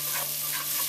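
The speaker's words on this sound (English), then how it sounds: "keep on stirring and frying this up for probably about 30 more seconds" Ginger stir-frying in a hot pan with fish sauce nearby, a dense continuous sizzle and hiss, close and loud, with no voices.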